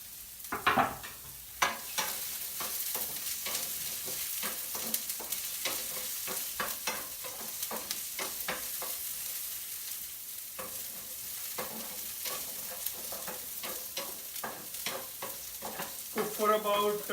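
Beans and carrots fry in a pan with ajwain, sizzling steadily while a spoon stirs and scrapes in repeated, rhythmic strokes over about seventeen seconds.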